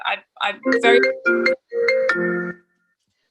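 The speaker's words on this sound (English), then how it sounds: "that was my phone" A mobile phone rings with a bright, repeating electronic melody in short bursts, heard up close in a quiet room.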